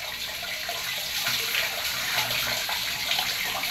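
Running water rinsing a child's head during a bath, a continuous close splashing rush from a tap or pour with no pauses.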